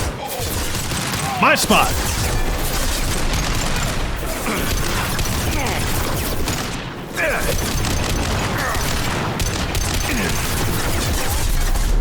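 Gunfire in the sci-fi shooter Mass Effect 2 crackles in dense rapid bursts with booming impacts and mechanical clatter, loud throughout, while someone talks over it.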